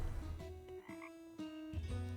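Frogs croak repeatedly in a video game swamp in Tavern Keeper, uneven rhythmic calls overlapping close by against a steady murky ambient bed, with no talking.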